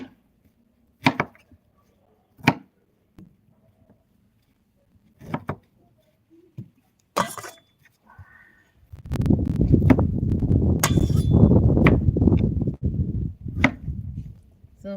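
A knife chopping and trimming tomatoes on a board, several sharp isolated cuts spaced a second or two apart, followed by a louder sustained rustling scrape near the end.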